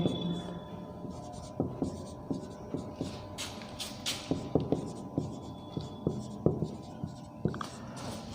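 A pen or marker writes out a number-system math problem on a board, making steady scratchy strokes and regular tapping clicks roughly every half second, set over a constant electrical hum in a quiet room.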